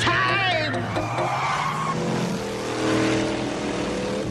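The Teenage Mutant Ninja Turtles 1988 Party Wagon toy van revs loudly and skids with squealing tires in a TV ad. Whining engine and screeching tires carry on continuously, with voices and music mixed underneath.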